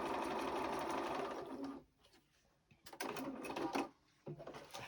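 A sewing machine stitches fabric for a Grinch Christmas pouch in loud bursts of rapid mechanical whirring, pausing briefly between runs before starting up again, close and alone without talk.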